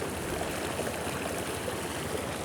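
Steady rushing flow of a boiling river in the jungle, a continuous broadband wash of water with no pauses, heard alone without voices.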